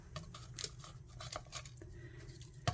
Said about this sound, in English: Now I just cut them out.